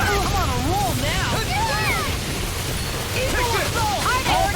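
A fire spell explodes in Tales of Arise battle combat, a loud continuous roaring blast mixed with game effects, while voices shout and call out over the din.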